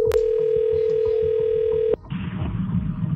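A telephone dial tone hums steadily for about two seconds while a call is being placed, then cuts off abruptly, leaving faint background noise and a low murmur.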